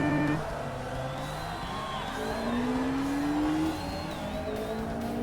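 An Opel Speedster Turbo races in the Forza Motorsport game, its engine note climbing steadily through the gears. Other cars sound nearby, and the loud, continuous race noise carries on without a break.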